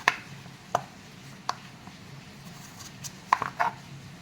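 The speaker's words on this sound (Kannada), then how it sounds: "ಈ ರೀತಿ ಕಟ್ ಮಾಡಿಕೊಳ್ಳಿ" A knife cuts cucumber (Mangalore cucumber) on a board in a few separate crisp chops spaced irregularly, close and fairly quiet, with no voices.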